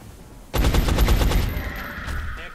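A burst of rapid gunfire from a soldier's shot in XCOM: Enemy Unknown, a loud string of close cracks lasting about a second, trailing into a sustained ringing tone.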